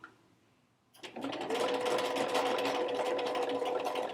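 A sewing machine runs steadily and loudly as it stitches vinyl fabric for doll shoes, starting after a second of quiet room noise and then humming on without a break.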